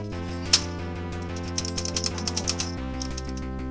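Keycaps being fitted onto a Panasonic FS-A1 MSX2 computer keyboard, with a series of small plastic clicks and snaps, one sharper click early and then a quick irregular run of taps over a steady low background hum.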